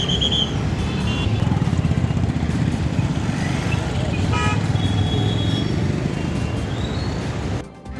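Congested traffic on a Jammu road jammed by four-lane and flyover construction: a loud, continuous rumble of engines with several car horn toots over it, near and ongoing, ending in a brief drop.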